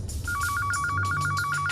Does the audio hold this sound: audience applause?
no